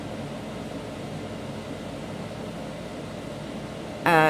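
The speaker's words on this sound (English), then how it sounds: "Can you hear the air conditioner?" An air conditioner hums steadily in an Oklahoma room, a low even drone with no talking, cut off near the end by a louder burst of noise.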